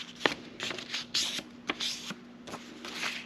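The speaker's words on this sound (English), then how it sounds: "So once again, we're going to fold it in half." A sheet of paper is folded in half for a paper snowflake, with crisp rustling and papery swishes in several short strokes, close and clear with no talk.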